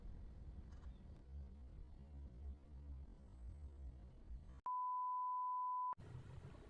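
A notification beep sounds as one steady, clean electronic tone lasting just over a second. It cuts through and briefly replaces a continuous background hum and rumble.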